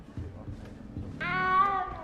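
A frightened little cat meows in a video game, giving one drawn-out, wavering high cry above low background sound.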